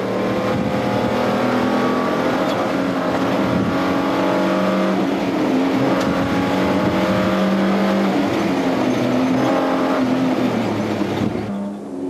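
Off-road race vehicles, a Toyota Land Cruiser and a Nissan Hardbody, roar past loudly with engines revving and climbing in pitch, one continuous powerful engine drone that fades at the very end.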